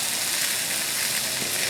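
Sausage and peppers sizzle on a Blackstone griddle with some burners turned low, a steady, dense hiss of frying that stays even and continuous throughout.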